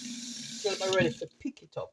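Cold water running into a cooking pot of potatoes and green bananas, a steady hiss that fades out under a voice talking close by.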